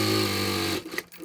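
A sewing machine runs a fast, steady stitching burst through fabric layered over foam, loud and close, then stops abruptly, leaving faint handling noise.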